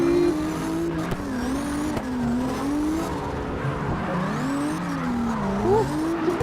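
A drifting car in the CarX Drift Racing game, sustained tire squeal wavering up and down over a loud continuous engine drone, close and constant throughout, no talking.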